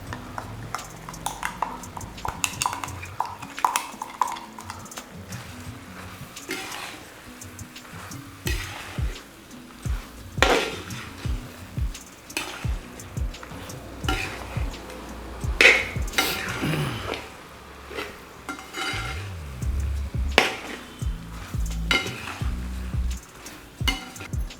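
A spoon stirs ground spice paste into chicken kondattam in a pan, giving intermittent scraping strokes and occasional metallic clinks over a low, quiet sizzle.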